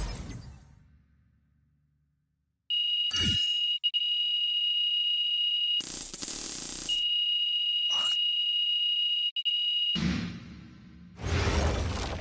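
An alarm clock in the basketball game NBA 2K26 rings with a loud, steady electronic tone held for several seconds, broken by short gaps and swooshing sounds, with a rumbling transition at the end.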